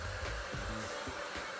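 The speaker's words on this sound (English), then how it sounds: "I'm taking it apart in order to diffuse it and get it dry." A hair dryer fitted with a diffuser blows steadily on hair being dried after a braid out. Its broadband whoosh runs continuously at close range, with small fluctuations as the section of hair is worked.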